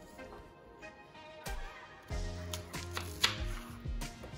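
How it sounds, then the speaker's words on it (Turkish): A knife chops onion into cubes on a board in a quiet kitchen, giving a series of soft, uneven taps that grow more frequent after a slow start. "İlk önce soğanı küp küp doğrayalım."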